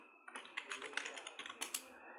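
Computer keyboard typing in a word-processing program, a run of quick, close, clicky keystrokes in short bursts with a brief pause, no talk over it.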